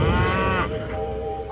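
A single drawn-out cow moo, loud and close, voiced by a man imitating the animal, sliding down at the end and trailing off.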